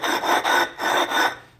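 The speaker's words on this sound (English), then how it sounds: "rub them on the concrete" Brick rubbed back and forth on concrete to chamfer a raised weld edge, four loud, close rasping strokes in a steady rhythm, each grinding scrape separated by a brief pause, no voices.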